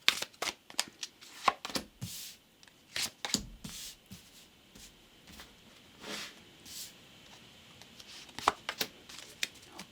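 Tarot cards are shuffled and riffled by hand up close, producing quick papery flutters and soft slaps in irregular bursts against a quiet room.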